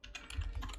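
Quiet typing on a computer keyboard, a brief burst of several soft close key clicks at an uneven pace with no voice.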